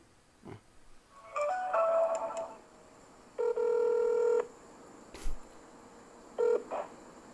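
A phone call being placed: several bursts of dialing tones, then two spaced ringback tones, with a short thump between them.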